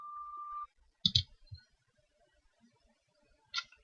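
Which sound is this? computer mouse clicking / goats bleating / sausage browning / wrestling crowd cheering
computer mouse clicking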